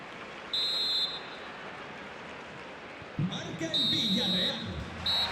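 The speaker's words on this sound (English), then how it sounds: "there it is, the half-time whistle" A referee's whistle in an FC 26 football match simulation gives two short, shrill blasts over the crowd noise, which swells as the first half ends.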